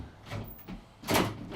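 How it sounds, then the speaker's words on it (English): A door swings and bangs shut in a classroom, two dull thuds about three quarters of a second apart, the second louder and heavier, with faint room noise around them. "Gosh, she's good at slamming doors"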